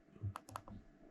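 The button on a Xiaomi smart laser measure is pressed in a few quick, close, crisp plastic clicks in a quiet room.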